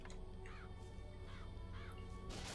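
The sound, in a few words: crows cawing from a vigor in video game Bioshock Infinite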